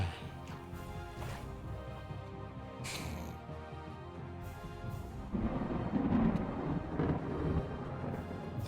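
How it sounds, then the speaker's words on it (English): Thunder rumbles in the Viking Conquest video game, a low roar that swells after a quieter windy stretch and rolls on near and heavy to the end. "Thunder roaring."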